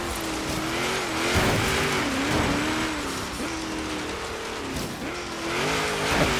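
A race car in the Forza Horizon video game revs hard through its gears with a wavering engine whine, tires squealing and skidding under loud, steady engine noise, alone without talk.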